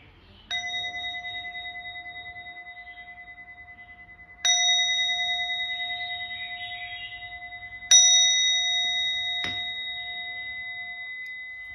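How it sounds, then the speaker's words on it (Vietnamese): A Japanese bronze meditation bell, 8.5 in diameter, is struck four times at slow, uneven intervals. Each strike rings out clear and sustained, its long tone gradually fading before the next. "Em cũng sẽ đánh chiếc chuông thứ 2 cho cả nhà."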